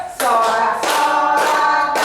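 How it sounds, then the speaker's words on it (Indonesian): Children sing a lively patriotic song in a classroom lesson, with hand claps mixed into the steady loud chorus throughout. "usahakan tepuk tangan biar ramai"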